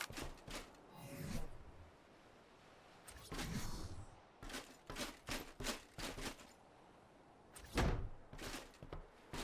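Doors being placed while building a base in the video game ARK: Survival Ascended, a series of short thuds and clunks in irregular bursts, moderately loud, with no talk.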